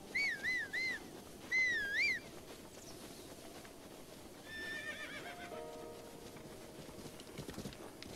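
A horse whinnies twice in The Legend of Zelda: Breath of the Wild, its high wavering calls standing out clearly, followed by softer game sounds and a faint rhythmic clatter of hooves.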